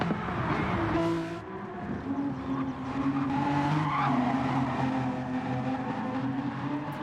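GT3 race cars drift with tires squealing at Spa: sustained engine drone with shifting tonal whines and skidding tire noise that goes on steadily, the level dipping once early and then holding, with no talking.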